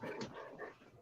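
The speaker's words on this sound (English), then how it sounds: "My dog wants to get out." A dog whimpering and whining softly at a door, wanting to be let out, a faint, brief high-pitched whine indoors.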